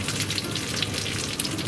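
A leek, potato and cheese pancake sizzles under a lid in a frying pan, giving a steady, dense crackle and hiss with tiny pops, close by and continuous.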